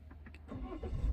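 An automatic car starts by push button with the brake pressed, a brief starter whir and crank rising into a low engine catch within about a second, close and without talk.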